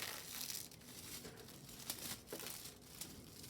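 Thin foil crinkles and crackles as it is pressed onto a painted knitted fabric, a continuous close, soft rustling with small irregular pops.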